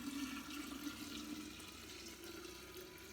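Kombucha tea pours into a container over a kitchen sink with a steady, sustained rush of liquid that runs evenly for several seconds at moderate volume with no talking.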